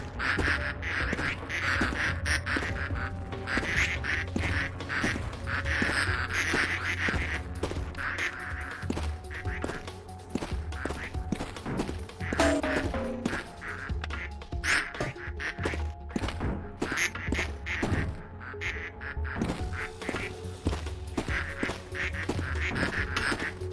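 Ducks in the video game Project P.I.T.T quack repeatedly in bursts over a busy, dense game soundscape, with the calls recurring through the scene at moderate loudness.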